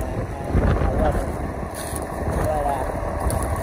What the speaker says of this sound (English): This tractor's running like an animal.